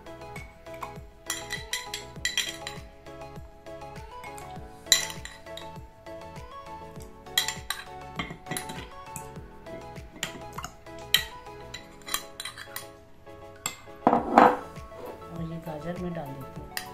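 Boiled potatoes and carrots are dropped into a glass jar, producing repeated clinks and knocks of food and utensils against glass, moderately close, with scattered gaps and a louder clatter near the end.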